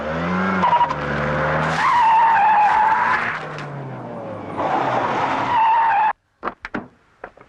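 A car skids to a stop with long, loud tire squeals over a revving engine, two drawn-out screeches ending abruptly, then a few brief knocks and thuds.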